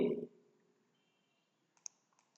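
Computer mouse clicks while working with shapes in MS Word: a few faint, sharp clicks near the end follow a brief burst of speech at the start, over near silence.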